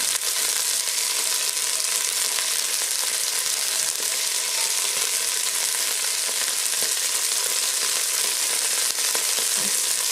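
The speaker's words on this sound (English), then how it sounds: "That great sizzle." Food frying in a pan on a home stove gives a loud, steady, dense sizzle and crackle that runs unbroken for the whole stretch, with no voices over it.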